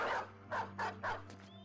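A dog in the video game Battle Brothers gives four or five quick, close barks in a short burst over a low steady background hum.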